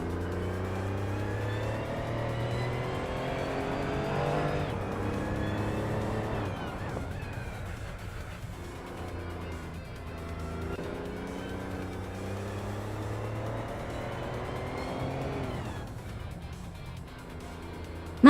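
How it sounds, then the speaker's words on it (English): A 1983 Porsche 911 930 Turbo races in a video game, its engine note climbing through gears with sharp drops at each shift, loud and steady throughout. "Maya is driving a 1983 Porsche 911 930 Turbo DA."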